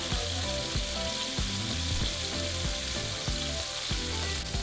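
Cobia fillets dusted in flour sizzle steadily in olive oil in a pan, a loud, even frying hiss with soft clicks and pops throughout, with no talking.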